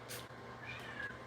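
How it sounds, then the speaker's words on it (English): Several kittens, including a black and white one, meowing close by in a home, with a few short high mews standing out over steady low background noise. "That is the kittens"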